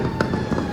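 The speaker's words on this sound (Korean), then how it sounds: "여기저기서 이제 폭죽을 터뜨리기 시작을 합니다." Firecrackers going off around a Malaysian Chinese neighbourhood at midnight on the ninth day of Chinese New Year, a dense continuous crackle with a couple of sharper pops, loud and enveloping.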